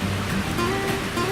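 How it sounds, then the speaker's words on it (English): The Partridge River flows at Hoyt Lakes, Minnesota, in autumn, a steady broadband rush of moving water that holds even throughout, with no voices over it. "We're standing here in front of the Partridge River in Hoyt Lakes,"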